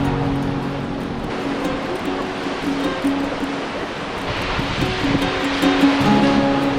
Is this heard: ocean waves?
yes